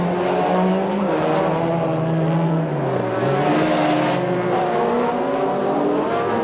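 A rallycross car races through the S-bends and chicane at the 1991 British Rallycross Grand Prix, its engine droning loudly and continuously with pitch shifts as it changes gear through the turns.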